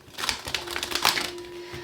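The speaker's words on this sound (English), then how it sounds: "Last shuffle" Tarot cards shuffled briskly by hand, a rapid run of crisp riffling snaps and flutters lasting under two seconds, close and fairly loud, with a faint steady hum behind.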